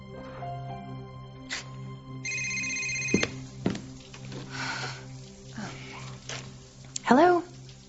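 A cell phone rings with a repeated electronic tone amid indoor soap-opera dialogue, followed by shuffling, thumps and a faint snort as people talk over it.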